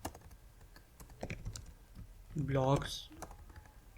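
Text typed on a computer keyboard, a run of quick close key clicks, with someone talking over part of it.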